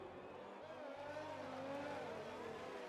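A race car engine drones steadily on its final lap of a PC racing game at Mexico, a sustained whine with shifting pitch, quiet and distant beneath a commentator's speech.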